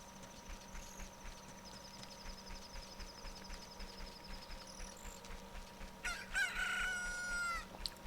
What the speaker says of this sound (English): Look, a chicken hatched from the egg you're incubating.